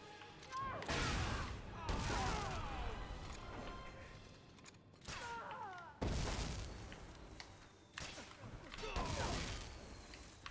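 Gunfire in the video game Dead Rising 4, loud repeated bursts of shots and booming impacts coming in several waves, with a player talking over the action.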